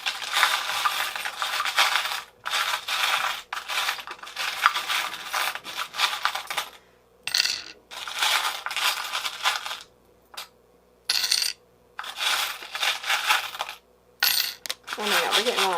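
Small metal charms clink and rattle as they are dropped and handled in bursts during a card reading, close and crisp, with short quiet gaps between the handfuls.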